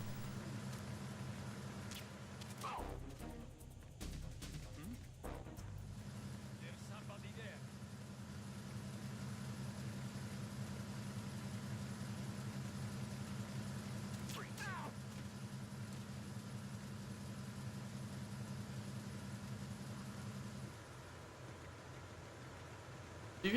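Engine room machinery in the video game Metal Gear Solid 2, a continuous low steady hum with a constant tone, briefly interrupted by clattering, running under background sounds for most of the stretch before cutting out near the end.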